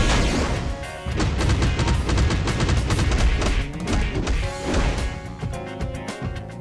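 Dense, continuous barrage of booms, crashes and rumbling impacts from Juggernaut's earthquake attack ending in a street-slab smash in the mobile game Marvel Future Fight, loud and relentless with layered thuds throughout.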